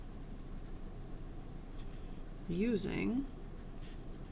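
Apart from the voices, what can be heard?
writing numbers down by hand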